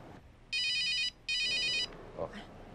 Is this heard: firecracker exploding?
no